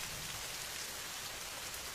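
Steady rain falls in a dense, even hiss, close and unbroken with no voices.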